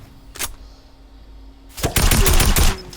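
Video game gunfire shoots a player down in a mobile game: quiet background, then a sudden dense burst of rapid, loud shots lasting about a second.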